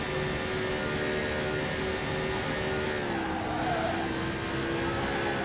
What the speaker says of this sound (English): Yeah, a little bit of a skid.